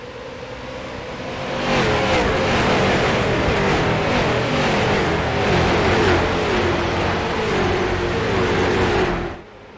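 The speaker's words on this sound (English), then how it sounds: "He hits the gas." An IROC race car in iRacing at Iowa surges back to speed on a restart, a loud, close engine roaring up from a low idle and holding a sustained high-revving howl for several seconds before abruptly cutting off.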